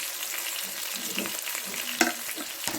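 Garam masala, crushed cumin and coriander fry in a pan while being stirred, giving a steady close sizzle broken by scraping strokes of the spoon.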